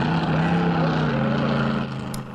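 Jet boats drag racing on a lake at a National Jet Boat Association event, giving a loud, steady, droning engine roar that fills the whole moment and dips slightly near the end.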